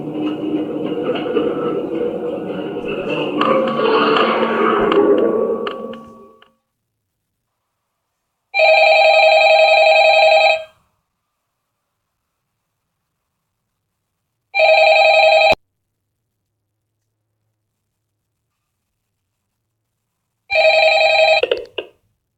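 A telephone rings in Five Nights at Freddy's: three loud, evenly spaced electronic rings separated by silence, following a stretch of noisy rumbling at the start.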